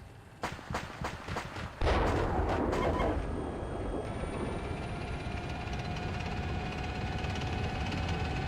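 Tank main-gun fire in the combat simulator Steel Beasts Pro: a string of sharp rapid reports in the first two seconds, then a heavy loud blast that leaves a sustained rumbling roar and whine.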